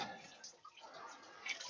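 Water dripping from beneath a 2003 Chevrolet Silverado Z71 with a 5.3-liter engine and a bad thermostat, landing in a drain pan; faint, steady splashing patter throughout with no talk.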